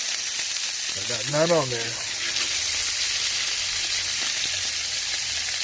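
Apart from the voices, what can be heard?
steak sizzling in pan while basting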